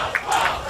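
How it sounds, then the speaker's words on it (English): A crowd at a rugby league match cheers and roars in a brief, surging swell, distant and open-air, with no single voice standing out. "the crowd's keeping warm by cheering"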